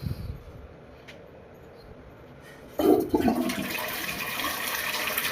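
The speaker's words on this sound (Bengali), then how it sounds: "ফ্ল্যাশ করে দিচ্ছি।" A wall-hung toilet with a Jaguar flush valve flushes: a sudden loud gush of water after a quiet stretch, settling into a steady close rushing refill.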